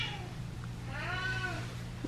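A cat meows for dinner, one clear, wavering cry up close after a faint earlier call, set over a low indoor hum.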